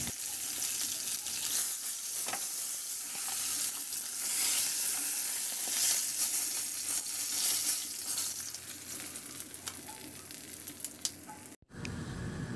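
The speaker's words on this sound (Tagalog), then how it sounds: "Magpainit ako ulit ng mantika sa kawali at igisa ko na yung bawang" Garlic sautés in hot oil in a pan, a steady bright sizzle and crackle that holds close and fairly loud for several seconds before a brief cut, with no talking.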